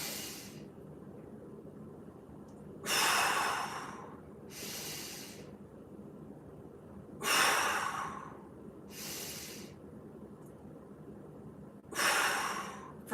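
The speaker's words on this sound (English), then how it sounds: "You want to go 3 big breaths in through the nose" Three deep breaths drawn in through the nose during a mobility session, each a loud, airy inhale followed by a softer exhale, spaced evenly with quiet gaps between.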